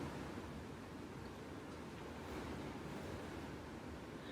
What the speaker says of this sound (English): Or even just listen to the sounds of the wind.